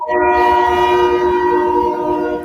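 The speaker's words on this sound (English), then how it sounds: "if y'all hear that train, I apologize about that" Loud train horn blaring steadily close by a railway track, a sustained multi-tone blast filling the whole moment with low rumble beneath.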